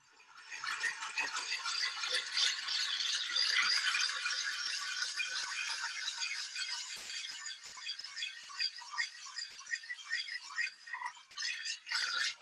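A glass muller grinds paint pigment on a slab in small circles, producing a steady gritty rasping scrape that continues close and fairly loud throughout, its texture shifting slightly toward the end.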